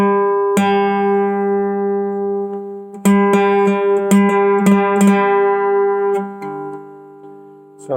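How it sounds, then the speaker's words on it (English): Two plucked guitar strings, the D fretted at the fifth fret and the open G, ring together for tuning, sustained steady tones with a few fresh plucks and slight beating between the pitches, close and clear with no talking. "So the D string is tuning on the 5th fret to the G string."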